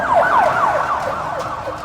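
Wailing sirens from a convoy of official vehicles with flashing red, blue and yellow lights, several overlapping sweeping tones rising and falling steadily and loudly, close by, with road traffic underneath and no talk.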